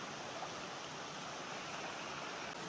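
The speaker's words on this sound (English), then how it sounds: "that's a big water crossing" A stream rushes at a big water crossing on a backpacking trail in Pisgah National Forest, giving a steady, loud, close wash of flowing water with no breaks and no voices.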